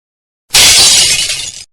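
A loud cartoon glass-like shatter as a floor breaks under a dropped phone, one sustained bright crash of about a second with tinkling debris, alone and close.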